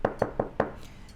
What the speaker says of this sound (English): You hear a knock at the door.